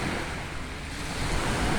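Ocean waves washing onto the shore at Pohe beach in Gorontalo, a steady broadband surf roar with wind noise that swells slightly toward the end, continuous and fairly close, no voices.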